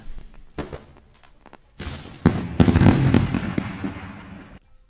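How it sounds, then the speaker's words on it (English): Leftover New Year's fireworks go off in a string of pops and bangs, building into a dense, loud crackling barrage before cutting off. "I still got fireworks from the New Year's time"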